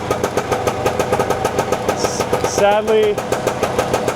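A two-stroke motorcycle with a single-sided swing arm and drum brake runs close by, its engine putting out a rapid, buzzy pulsing note, with a brief rev partway through and a voice speaking over it.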